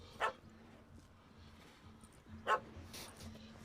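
A dog in The Witcher 3: Hearts of Stone gives two short, sharp barks about two seconds apart over a quiet, low game hum.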